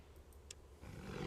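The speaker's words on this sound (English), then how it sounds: "Hey, I remember that screaming. That's Beast. Or a lion, because that's basically a stock sound effect" A roar from Beast in the video game Kingdom Hearts 2, a lion-like stock growl that swells in the last half second, loud and rough over a low background rumble.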